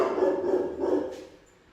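Rescue dogs at the Maple Ridge SPCA shelter give a short burst of barking, a couple of close, mid-loud barks that fade out quickly.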